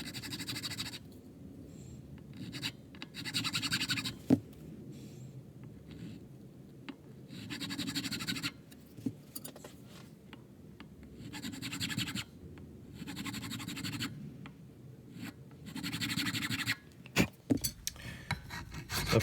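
A file rasping down the top of the nut on a 1973 Fender Stratocaster, repeated short scraping strokes in an even back-and-forth rhythm, close and moderately loud with short pauses and a few sharp taps.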